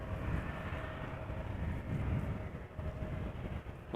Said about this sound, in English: even these small jets already sound gnarly